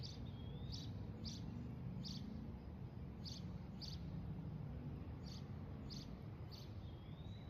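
A bird sings outdoors with a series of about a dozen short repeated high chirps at a steady rhythm, moderately near, over a constant low rumbling background noise.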